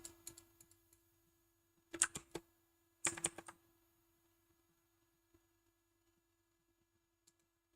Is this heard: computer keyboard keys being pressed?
yes